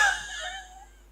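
A voice imitating the wheezing breath of bronchial asthma, a single high whistling, moaning exhale that fades over about a second.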